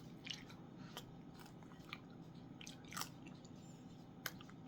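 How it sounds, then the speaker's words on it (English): Crisp crunching bites and chewing of a home-fried tortilla tostada, close and quiet, with a handful of sharp crackly crunches spaced irregularly over a soft background. "we're going to take one more little crunch together"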